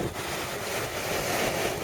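Ocean waves wash continuously onto a beach in a steady broadband roar, mixed with wind buffeting the microphone.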